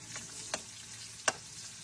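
Vegetables cooking in a pan, a steady soft sizzle with a couple of brief stirring scrapes, close and fairly quiet, no talking.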